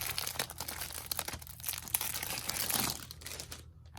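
Packaging for a Dothack fanbook is ripped open with loud, continuous crinkling and tearing of plastic wrap, close up, ending abruptly in quiet, no talking.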